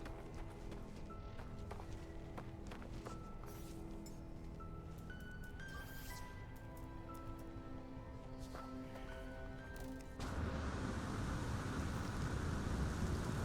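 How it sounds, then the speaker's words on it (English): A storm rolls in on an alien planet in the game No Man's Sky, with a dense hiss of rain and low rumbling, faint underneath game music tones, the rain swelling louder toward the end. "Weather warning. Incoming storm."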